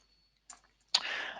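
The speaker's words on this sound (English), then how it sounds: "very easy to actually use the system just using the keyboard or mouse and click" A computer mouse or keyboard clicking at a desk: a couple of faint isolated clicks followed by a brief burst of louder clattering, close and quiet, with no talk.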